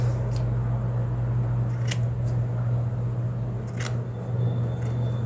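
Scissors trim the ends of a felt bow. A few brief snips are spread out and faint over a steady low hum of room noise.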